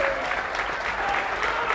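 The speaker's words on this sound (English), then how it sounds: "he gets quite a well-deserved ovation from everyone" Steady, dense applause from a high school basketball crowd in a gym, giving a standing ovation to a player reaching 1,000 career points, sustained and even throughout with no pauses.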